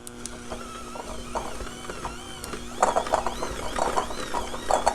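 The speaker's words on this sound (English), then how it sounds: "So now using my hand mixer, I'm just gonna go ahead and beat this until it starts to look homogeneous" A hand mixer beating pieces of cold butter in a bowl, a whirring motor with rattling, clattering beaters that grows louder and more agitated after a few seconds, close up with no talking.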